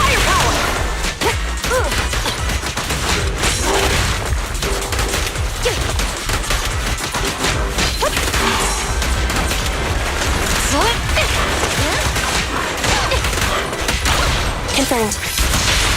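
Dense, relentless gunfire and explosive crashes from a combat fight in the video game Zenless Zone Zero, with bursts of automatic fire and impacts piling up at a loud, steady intensity. Voices can be heard shouting through the barrage.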